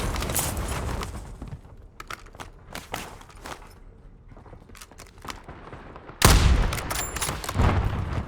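Gunfire in Call of Duty Warzone: scattered shots and short bursts pop through the first seconds, then a loud blast gives way to a heavy sustained rattle of automatic fire.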